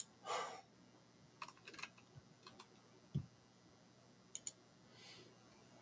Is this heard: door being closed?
no